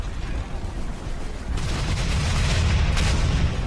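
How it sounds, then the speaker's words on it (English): Warship broadsides and a 200-pound siege mortar shell firing on a fort, a continuous heavy rumble of booming cannon that swells louder midway and holds as sustained distant bombardment. "As its 200-pound shell arced toward the fort, the rest of Parker's warships unleashed their broadsides."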